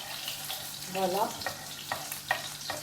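Butter and oil heat in a pan with a steady low sizzle and faint crackling pops, close by in a home kitchen, with brief background sounds over the frying.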